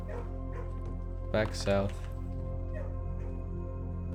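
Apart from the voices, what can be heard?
dog barking in the video game Blue Prince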